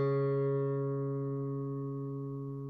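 One low guitar string, tuned down to D flat in an alternate tuning, is plucked and left to ring, a sustained steady tone gradually decaying, played alone.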